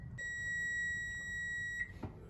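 A kitchen timer being set for brownies baking gives one sustained electronic beep lasting over a second, clear and fairly close, followed by a soft click in a quiet room.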